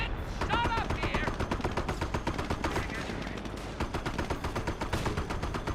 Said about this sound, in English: We're getting shot up here.